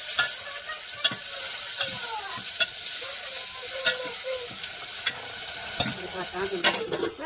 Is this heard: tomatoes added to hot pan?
yes